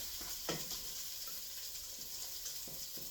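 Red cabbage and sausage stirred in a frying pan give a quiet, steady sizzle, broken by a few soft scrapes of the spoon against the pan.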